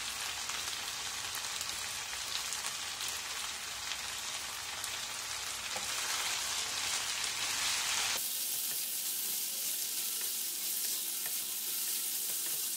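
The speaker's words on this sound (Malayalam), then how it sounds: "ലോ ഫ്ലെയിമിൽ വെച്ചിട്ട് ബീഫ് നന്നായിട്ട് ഫ്രൈ ചെയ്തെടുക്കാം." Beef with curry leaves frying on a low flame, a continuous dense sizzle that is loud at first, then turns quieter and thinner partway through, with no voices.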